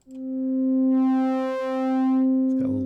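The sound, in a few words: VCV Rack synth patch with sine wave LFO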